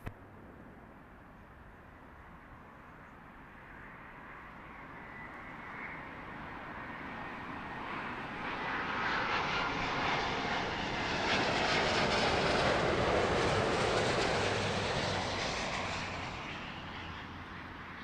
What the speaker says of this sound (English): Beautiful Iberia A350.